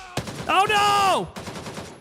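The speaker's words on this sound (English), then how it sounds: "he's still shooting at me through the freaking fence" In the shooter game Gray Zone Warfare, an enemy fires through a fence: a sharp gunshot, then a rapid string of shots, with a player's voice crying out loudly between them.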